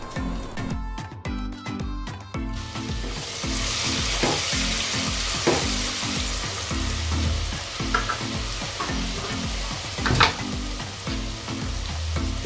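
Onion sizzling loudly in hot oil in a pan for a murrel fish curry with black cardamom, a steady frying crackle with occasional stirring scrapes and clinks, close and continuous.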